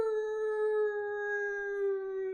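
A human voice imitates a wolf howl to close a team meditation gathering: one long, steady, sustained howl, loud and close, holding an even pitch for about two seconds with no other sounds.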